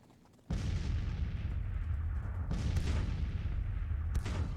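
Six-pound Civil War artillery guns fire in a tactical battle game, with a loud booming report that opens the clip and two more heavy blasts rolling out later over a continuous low battle rumble.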